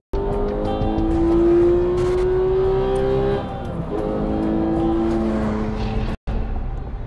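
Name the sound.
race cars at the start of the 1955 24 Hours of Le Mans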